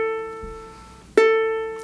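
On a ukulele, an open A string is plucked once as a walking bass note, a clean, close tone ringing out after a quiet lead-in and a faint softer pluck.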